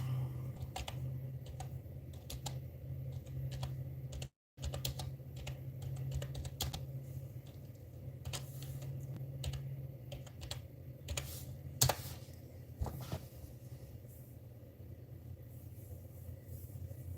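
Keyboard typing in a dark room: quick, irregular clicks scattered over a steady low hum, fairly close and moderate in level, with a brief dropout partway through.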